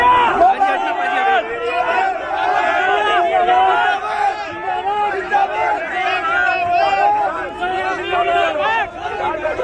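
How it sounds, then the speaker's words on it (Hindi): Crowd of protesting farmers at the Ghazipur border chanting slogans against the media, a loud dense mass of shouting voices rising and falling continuously for the whole stretch. "तो यहाँ पर गोदी मीडिया मुर्दाबाद के नारे लगाए जा रहे हैं।"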